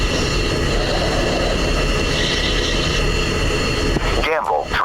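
An F-16 engine in a flight simulator game hums with a steady loud roar while the jet waits on the runway before takeoff. A voice speaks over the engine noise near the end.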